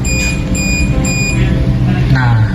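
An HHPC 3+ handheld particle counter sounds its alarm as a run of short, evenly spaced high-pitched beeps, about four in a row, over a loud low rumble and nearby talking.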